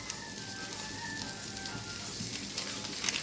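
Masala karela (bitter gourd) frying on a gas stove turned up high: a steady close sizzle holds throughout, with faint stirring scrapes and a slightly louder crackle near the end.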